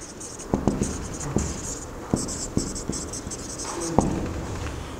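Equations are written on a board during a physics lesson: scratchy strokes and scattered sharp taps over several seconds, close and steady, against a faint hiss with no talking.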